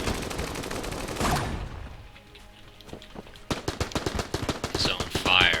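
Boss gunfire in Enter the Gungeon comes in a dense burst of game shots, eases into a quieter stretch, then returns as a rapid, steady volley of sharp reports.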